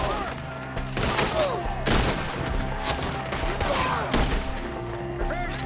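Gunfire in a Red Dead Redemption 2 shootout: loud, repeated sharp gunshots at irregular intervals, with game voices shouting between and over the shots.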